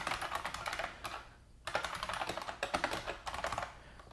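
Rapid clattering keystrokes on a computer keyboard, typing a web address into a browser on an industrial Raspberry Pi setup; close and crisp, in two bursts separated by a brief pause, with no voices.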